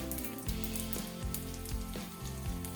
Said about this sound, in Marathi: मग आपण कढईमध्ये तेल घालून त्यात जिरं घालून चांगलं तडतडू द्यावं